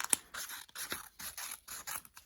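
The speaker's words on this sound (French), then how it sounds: "vous découpez tout autour" Scissors snip repeatedly around a paper dragon puppet, a series of short crisp cuts in an irregular rhythm, close and clear with no talking.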